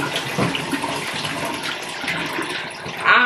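Water pours steadily from a household tap into a sink during handwashing, a continuous splashing rush with a brief louder gush near the end.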